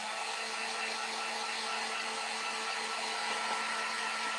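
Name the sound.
drying ink to heat set it, likely a heat gun or dryer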